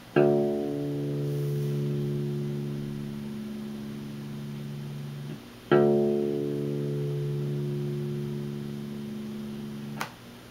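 A single low D string on an acoustic guitar rings out for tuning, plucked three times: two long sustained notes decaying slowly, then a short final pluck, clear and alone.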